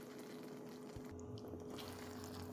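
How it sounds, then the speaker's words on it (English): Shepherd's pie sauce with garlic bubbling in a pan, a soft, steady watery simmer with a low hum in the background and no talking. "Now I'm just going to let this boil for a few minutes so that the sauce can thicken up and coat everything."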